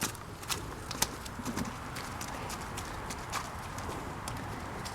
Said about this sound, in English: So make him trot just one lap.